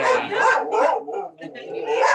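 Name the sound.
dogs barking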